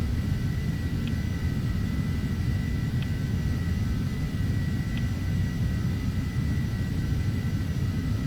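Steady, loud jet airliner engine drone from Flight Simulator X at cruise altitude with throttles pulled back, a continuous broadband rumble with faint periodic chirps and no voices.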